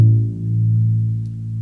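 A single low A2 note vibrating at 110 Hz, sustained steadily and close with a smooth, humming harmonic tone that fades slightly over nearly two seconds.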